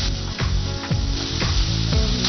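Beans and vegetables cook in oil in a pan, a close, steady sizzle broken by a few rhythmic scraping stirs, with no voices.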